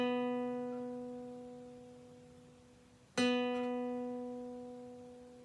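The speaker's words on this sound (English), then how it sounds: "And the B string, which is the second to the bottom, should sound like this." An acoustic guitar's B string is plucked twice for tuning, the first note already ringing and fading, then a crisp fresh pluck that sustains and slowly decays, with no talk over it.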